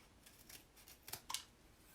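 Scissors snipping through paper while cutting tag-shaped corners for a chalk craft project: several quick, faint crisp snips, the last two sharper and closer together, in an otherwise quiet room.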